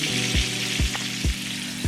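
Salisbury steak patties frying in oil in a pan, a loud, close, continuous sizzle with a few low bumps, no voices.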